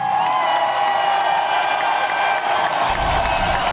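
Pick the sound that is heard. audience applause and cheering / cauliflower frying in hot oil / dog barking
audience applause and cheering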